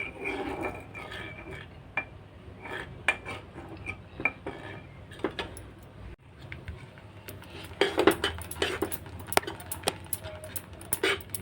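A spoon scrapes and clinks against a pot while stirring a thickening mango ice cream mixture, the irregular metallic taps and scrapes close and fairly quiet, growing busier toward the end, with no talk.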